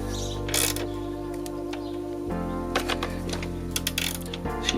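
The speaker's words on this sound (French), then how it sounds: "Je serre la roue avec la douille de 19." A 19 mm socket wrench tightens the rear wheel nut on a Yamaha YBR 125 motorcycle, giving close clicking ratchet and metallic mechanical sounds over a steady low hum, with no voices.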